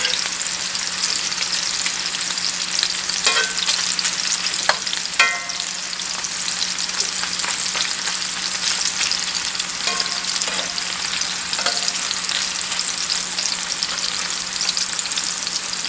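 Hot dog weenies fry in a pan for an Appalachian summer supper, with a steady broadband sizzle throughout and a few sharp pops and crackles scattered over it, close and continuous with no talking.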